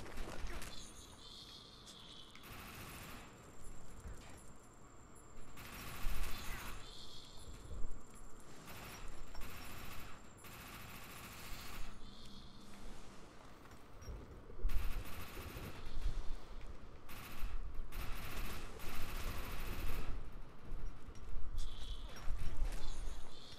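Submachine gun in Defiance 2050 rattling off rapid bursts in a firefight, with repeated loud volleys separated by short pauses and some quieter background clatter between them.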